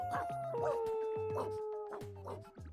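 Cartoonish video-game dog noises from Wobbledogs, a run of short squeaky yips and whimpers over a steady synthetic backing tone, fairly quiet and evenly spaced.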